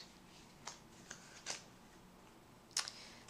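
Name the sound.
shuffling a Rider-Waite tarot card deck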